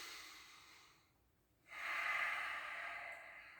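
An inhale during qi gong standing meditation: a soft hiss of breath drawn in, then a fuller, steady airy breath that holds for a couple of seconds, close and quiet with no talk.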